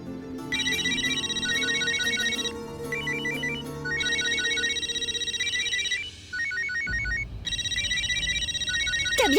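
A phone ringtone for an incoming call, a bright repeating electronic melody in several loud bursts separated by brief pauses, alone with no talking.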